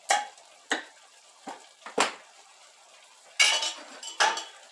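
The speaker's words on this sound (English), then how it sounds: "we're also going to put the spaghetti sauce in there because I'm just mixing it all together" A utensil stirs ravioli lasagna with spaghetti sauce in a dish, making a series of sharp clinks and scrapes at an uneven pace, close and fairly loud, with no talking.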